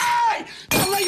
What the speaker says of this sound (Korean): 중간에 이제 연설을 하다 이렇게 바닥을 쳤을 때 유리가 깨지는 장면이 있는데